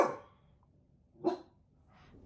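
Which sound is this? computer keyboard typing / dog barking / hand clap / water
dog barking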